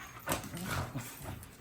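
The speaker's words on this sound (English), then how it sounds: "They growl real loud, but they're not biting hard, are you?" Two dogs growl loudly and continuously at close range while play-fighting, with rough snarling bursts and no spoken voices.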